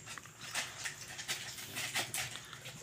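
Rapid, breathy puppy panting up close, with soft rhythmic huffs and occasional faint whimpers; no voices.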